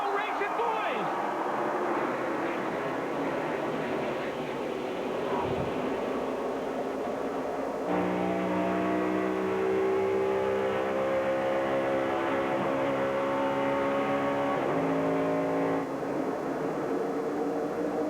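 Pack of NASCAR stock cars at the 2008 Aaron's 499 accelerating off the start, a dense sustained engine roar with rising harmonic whine, crowd and commentary voices mixed in throughout.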